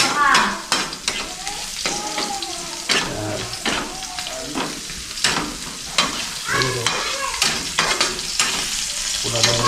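Garlic sizzles loudly in a pan as dinuguan cooking begins, with a spatula scraping and stirring in a quick, irregular rhythm; no one talks.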